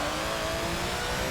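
A race car engine in Forza 7, heard from an onboard camera inside a boxy cabin, drones loud and steady at high revs with a reverberant, tonal whine and no speech.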